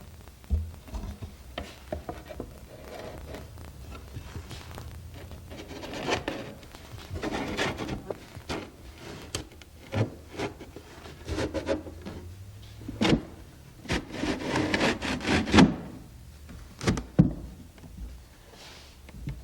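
Wooden drawer bottom sliding into a furniture drawer during repair, giving a series of close, dry wooden rubbing and scraping sounds with irregular knocks and taps, no talking.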